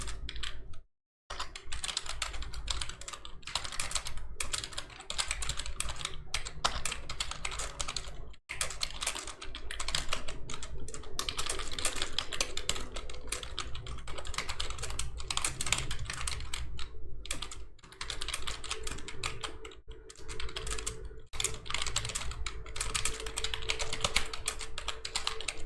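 Rapid, continuous typing on a computer keyboard while writing a document in MS Word, close and fairly quiet, dense key clicks with only a couple of brief pauses and no voices.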